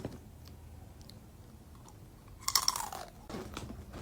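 Crunchy curls snack bitten and chewed up close, a couple of sharp crisp crunches after a quiet stretch, followed by softer munching.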